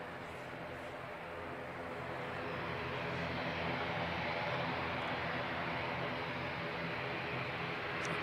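A passenger aircraft, flight NZ5751, departs Christchurch Airport in foggy conditions, bound for Dunedin. Its engine roar builds gradually to a steady, loud broadband rush and holds throughout, with no talk.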